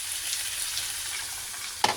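Small amount of water added to pechay sautéing in a pan, a steady loud frying sizzle with a brief splash or clink near the end, no talking.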